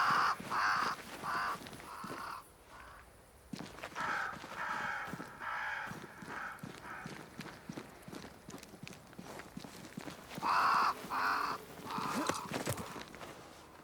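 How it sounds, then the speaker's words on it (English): Crows caw repeatedly in harsh, raspy clusters in the video game Banishers: Ghosts of New Eden, mixed with the clip-clop of a horse's hooves walking steadily underneath. "Crows. They flock to that great tree up there."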